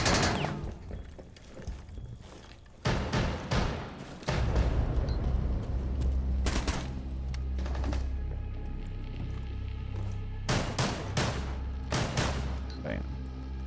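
Shotgun blasts in a video game: scattered loud, sharp booms spaced several seconds apart, some in quick pairs, over a rumbling game backdrop with a voice talking in places.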